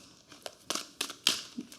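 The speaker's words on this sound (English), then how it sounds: "I feel like I need to shuffle a little bit more" A deck of tarot cards is shuffled by hand, giving a few quick, crisp riffles and papery slaps close to the listener over about two seconds.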